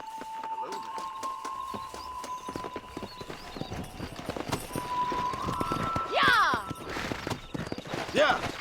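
Horses galloping in Red Dead Redemption, a quick steady clip-clop of hooves with a whinny, under sustained musical tones and spoken dialogue.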